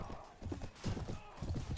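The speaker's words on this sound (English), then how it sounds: "So these are the horses that our Rohirrim are using." Rohirrim horses from the Perisno mod video game gallop in a quick run of muffled, rhythmic hoofbeats, close and moderately loud, with a faint voice in the background.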